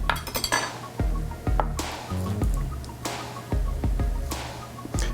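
Glassware clinking and tapping while a champagne cocktail with cognac, sugar and a maraschino cherry is prepared, a series of sharp bright clicks and knocks spaced irregularly over a quiet background.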